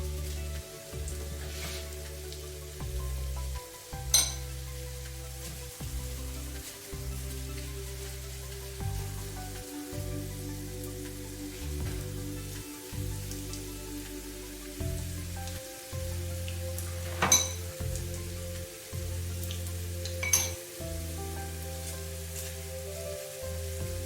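Meat cutlets sizzle steadily in oil heated to a moderate temperature, a continuous close crackle with a few sharper pops and spatters rising above it, and no voices.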